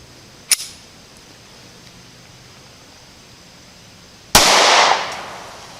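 A SCCY CPX1 semi-automatic compact pistol fires two sharp reports a few seconds apart, the first a short crack and the second louder and closer with a ringing tail, against a quiet background.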